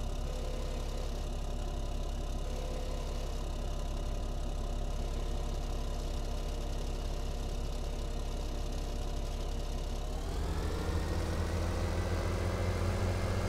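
A tractor engine in Farming Simulator 17 pulls a seeder that needs around 240 horsepower. It drones steadily for about ten seconds, then shifts up into a louder, higher-pitched roar that holds to the end.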